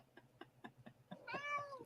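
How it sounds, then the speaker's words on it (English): A cat meows clearly near the end, a drawn-out, rising and falling cry that follows a run of short, evenly spaced soft sounds, all fairly faint in a quiet room. "I hear a cat."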